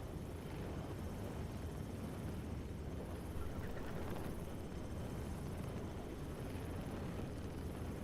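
A Pelican dropship lifts off in a video game with a steady, droning engine roar that rumbles the whole time at a constant level, with no talking over it.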